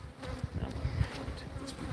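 Bees buzz around hive colonies in a yard, a dense, wavering drone of many insects close by, swelling and fading as individuals pass near, with no voices.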